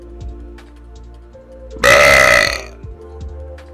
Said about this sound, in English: Hold on, burps in chat. Hold on, we're brewing one up.